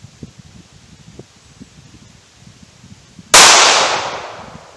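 A single .380 ACP pistol shot from a Ruger LCP firing Remington 88-grain HTP ammunition at an outdoor range, a sudden loud crack that decays over about a second and a half after low rustling background.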